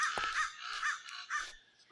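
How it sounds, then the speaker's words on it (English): Crows cawing several times in a row, fairly close and distinct harsh calls spaced by short gaps, alone without talk. "Crows are very noisy."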